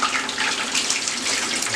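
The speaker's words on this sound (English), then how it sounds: "so I'm washing my hands" Hands being washed under a running kitchen tap, a steady close splash of water flowing without pause, with no voices.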